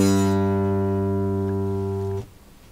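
Bass guitar plucking its open G string: one sustained low tone with a bright attack that slowly fades, then stops abruptly, leaving near silence.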